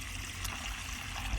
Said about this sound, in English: I'm filling my buckets as I talk to you